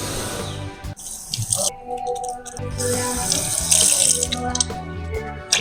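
Water runs steadily from a bathroom tap while someone rinses their mouth and washes their hands, the flow splashing continuously with shifting gurgles and a brief pause partway through.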